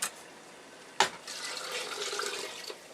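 Water sloshing and pouring into a big bowl in a kitchen, a sharp splash followed by a steady close trickle that fades after a couple of seconds.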